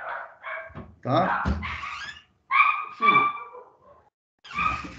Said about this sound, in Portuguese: O cachorrinho está latindo aqui